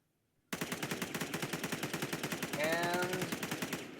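A G36 rifle fires in Roblox Anomic, one long sustained burst of rapid, evenly spaced shots starting abruptly after brief silence, loud and close with a faint whistling tone midway.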